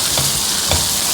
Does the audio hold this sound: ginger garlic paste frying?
yes